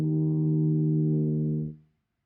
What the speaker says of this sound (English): You notice the note we have here is E flat.